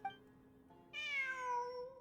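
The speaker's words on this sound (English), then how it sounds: "I'm not hearing things. It really is a cat." A cat in the video game Genshin Impact lets out a drawn-out meow after a short faint chirp, the main call rising then gliding down over about a second, close and clean with no talk.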